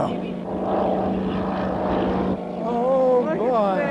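Gee Bee R-2 racing airplane roaring past overhead, its loud engine drone rising and bending in pitch as it passes, with excited spectators talking and exclaiming throughout.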